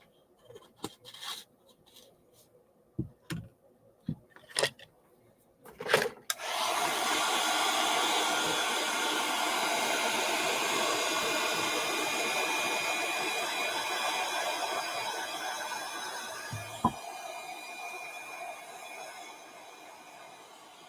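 A few short rustles and taps give way to a hair dryer switched on for a craft project. It runs as a loud, steady whoosh for most of the stretch and eases off slightly toward the end.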